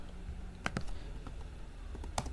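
Sparse, faint keystrokes on a computer keyboard while entering input into a desktop library management program, a few isolated clicks over a quiet room hum.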